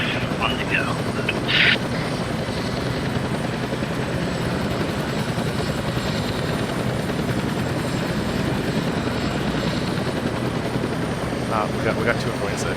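A helicopter comes in to land in the Arma 3 military game, its rotor and engine a dense continuous roar throughout, loud and close, with radio-style voices talking over it.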